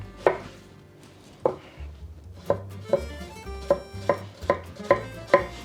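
An onion is chopped into small pieces on a cutting board, with a knife striking in a steady series of crisp, close thuds and short pauses between cuts, and no talking.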